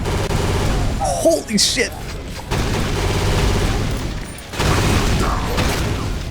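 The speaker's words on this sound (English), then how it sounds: "then you get an explosive minigun, which is not" An explosive minigun fires in the Doom mod Guncaster, a continuous loud rattling barrage with booming blasts and whirring mechanism, briefly interrupted then resuming, while a man exclaims over it.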